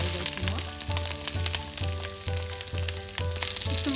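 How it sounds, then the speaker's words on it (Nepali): Green and red capsicum frying in a pan heated with about a spoonful of oil, a steady close crackling sizzle over a low rhythmic hum and faint background music, with no speech. "केही बेर फ्राई गर्छु।"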